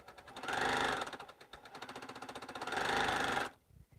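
A sewing machine runs a short, close-up quilting seam, its needle chattering in a fast, steady rhythm that surges and eases in two bursts before cutting off near the end.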